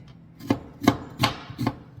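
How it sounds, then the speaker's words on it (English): A knife chopping half an onion on a board, with four evenly spaced, crisp, close thuds and no talking. "I'm gonna chop up half of an onion"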